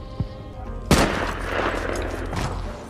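Gunfire from a war film as soldiers shoot German troops: a sharp loud shot followed by sustained rattling bursts and a rumbling boom-like wash.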